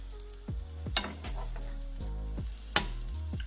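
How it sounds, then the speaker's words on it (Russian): Pirozhki with fruit jam filling frying in a well-heated pan of hot oil, giving a steady close sizzle with bursts of bubbling and a few sharp crackles as the oil is spooned over them. "Пирожки у нас должны жариться, а не вариться в масле."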